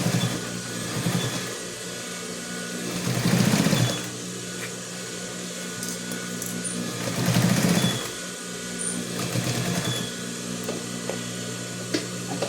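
A sewing machine stitches the thick pocket section of a bag, running in steady mechanical bursts with two louder passes, close and alone without talk.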